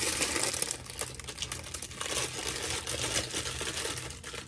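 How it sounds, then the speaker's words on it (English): German glass craft sheet crinkled by hand, a steady dense crackling and rustling that runs throughout, close and fairly loud, with no voice over it. "you like that crinkly noise"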